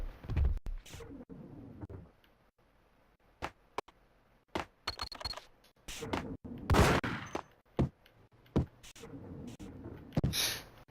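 Bursts of gunfire from the video game Max Payne on Xbox, sharp shots scattered in clusters with gaps of near silence between them, some close and loud, mixed with brief gasps and game noise.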